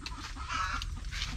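A hen in her nest makes soft, rapid low clucks while settling over her eggs, close and steady with a faint rustle of nesting material.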